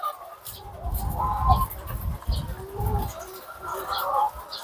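A hen on a farm, one whose flock has had deaths and who has a prolapse, clucks and coos in short bursts up close, with other birds and faint speech in the background.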